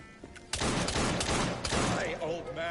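A rapid volley of gunfire crackles loudly in a Victorian London action game, several shots overlapping in a dense burst with game voices mixed in.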